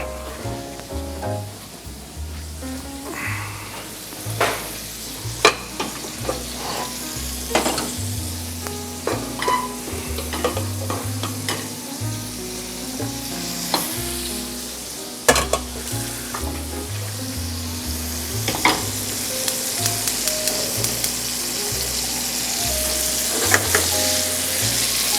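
Chicken for chicken marsala sizzling and frying in a pan, a steady crackling hiss with occasional louder pops and stirring clinks, close and continuous with no voices.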